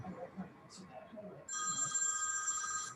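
Someone talks quietly at a parks and environment committee meeting, then a cell phone starts ringing with a steady, bright electronic trill that carries on loudly over the room.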